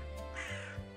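A crow gives a short, hoarse caw over a steady background, used as a sound effect in a children's story about a young crow.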